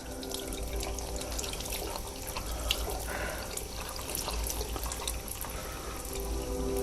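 Steady running water from a tap as old, dirty guitar bridge pins are washed in a sink, a continuous close splashing flow with no talking.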